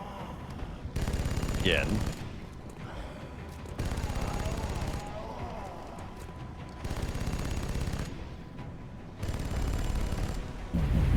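Bursts of automatic gunfire from the video game XCOM: Enemy Unknown come in several loud, dense volleys lasting a second or two each, with short pauses and a voice speaking briefly between them.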